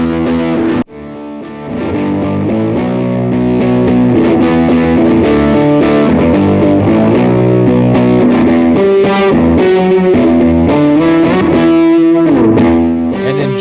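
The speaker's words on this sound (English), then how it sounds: "So that's like a pushed tube preamp. Like it's not really clipping, but it's like edge of breakup." Electric guitar through a pushed tube preamp at the edge of breakup plays a loud, sustained, slightly gritty melodic line of overlapping notes after a short opening pause.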